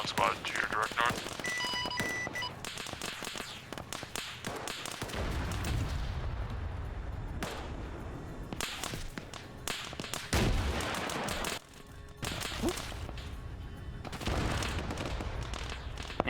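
Machine gun fire in the military shooter game Arma 3, repeated bursts and sharp cracks with heavy booming impacts in a busy battle, while voices talk over the radio.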